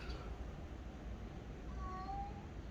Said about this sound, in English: the cat here is looking at me and says, feed me, feed me